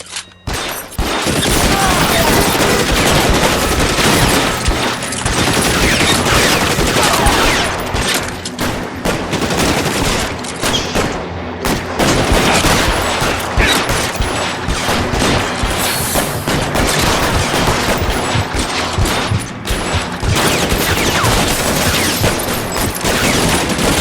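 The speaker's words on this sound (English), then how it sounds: "Bullets start flying" A shootout in L.A. Noire erupts into loud, nearly continuous gunfire, with rapid overlapping shots and bursts that barely let up, and voices shout occasionally through the din.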